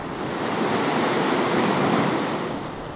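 A river in Madagascar on a calm morning flows with a steady, broadband rushing wash, close and even in loudness throughout, with no voices.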